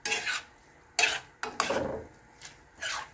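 Sotanghon noodles stirred in a pan, with a few distinct scraping and clanking strokes of the utensil against the metal, separated by short pauses, close and fairly loud with no talking.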